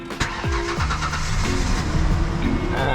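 A turbocharged Mazda Miata, unused for a week or two, cranks briefly and then catches and fires up into a loud, close, slightly uneven idle with a rough, misfiring edge.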